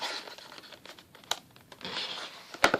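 A foil-wrapped Pokémon card pack is crinkled and torn open close by, with rustling foil and sharp tearing snaps in short bursts.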